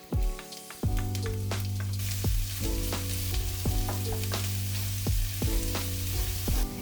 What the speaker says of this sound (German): Bratet als erstes den Ingwer an, bis er aromatisch duftet.